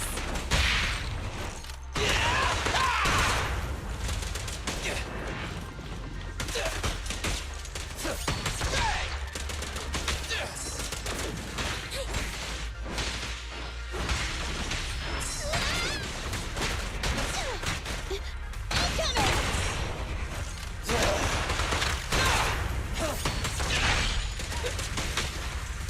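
Gunfire in a video game: repeated bursts of shots mixed with crashes, thuds and clanking mechanical noises, loud and busy for the whole stretch, without speech.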